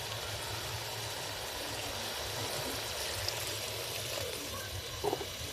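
Water is poured steadily into a pot of dal and pumpkin, making a continuous splashing rush, with a brief clink near the end.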